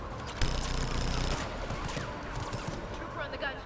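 Rapid automatic gunfire rattles in a sustained burst amid a Mass Effect 3 battle, then scattered shots and combat noise continue with voices talking over it.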